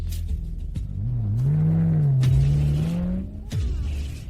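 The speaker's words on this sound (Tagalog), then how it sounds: "3 piraso lang sa buong mundo ang kotse na yan" A rare car, one of only three in the world, arrives with a rising engine note that swells, holds steady, then settles, close and fairly loud with no talk.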